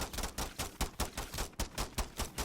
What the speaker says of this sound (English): even if you shoot for the head, it just doesn't land those critical shots